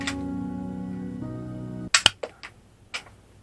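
A Mauser toy dart blaster fires once, a sharp close snap followed by a few lighter clicks and knocks of the dart and mechanism, after a steady low hum that cuts off abruptly.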